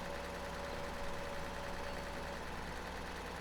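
A tractor engine in Farming Simulator 2013 drones in a steady, raised-rev hum with a faint knocking pulse, loud and even throughout with no voices.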